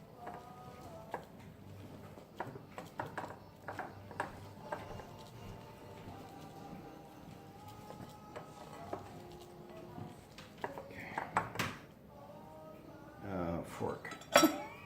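Breakfast cookie dough is stirred quickly in a bowl, with repeated clinks and scrapes of a utensil against the dish, faint and close, while a voice talks quietly underneath.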